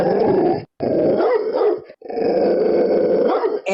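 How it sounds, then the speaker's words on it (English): A two-headed dog in a told story growls and snarls loudly and close, in long rough bursts broken by brief pauses, with yips and bark-like edges. "Looks like Gerion's got a dog."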